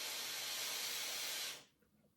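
A long, deep inhalation through the nose from an essential oil inhaler, a steady airy hiss lasting over a second before cutting off into near silence.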